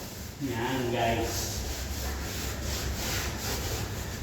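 Sandpaper working over a mahogany door, a close scratchy rubbing in steady back-and-forth strokes that continue throughout, with a short stretch of talking near the start.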